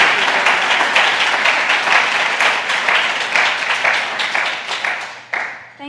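Audience applause for a keynote speaker at a food-system data conference, a dense, steady burst of many hands clapping nearby that thins into a few scattered claps at the end.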